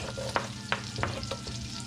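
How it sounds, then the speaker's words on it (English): Onions scooped into a hot pot for mac and cheese sizzle and scrape, with several sharp scooping clacks over a steady background hum and no talking. "Now let's just scoop in our onions"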